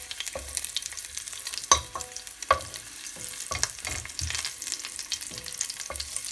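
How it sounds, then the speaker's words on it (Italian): Unpeeled garlic cloves frying in olive oil in a pan give off a steady close sizzle, broken by a few scraping stirs and clinks of a utensil. "adesso abbiamo messo dell'aglio, facciamo giusto lavorare un po' l'aglio, logicamente in camicia, ok, facciamo insaporire il nostro olio"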